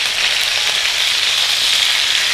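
Chicken pieces sizzle steadily in a cast iron paella pan for a Valencian chicken paella, a loud, continuous close-up frying hiss with no talk.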